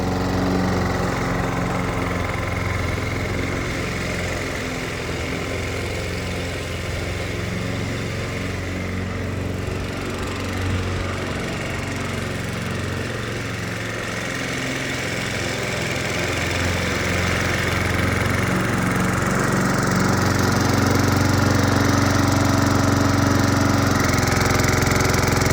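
Gas-powered lawn mower engine running steadily and loudly up close for the whole stretch, a continuous rough drone with a slight swell in intensity toward the end.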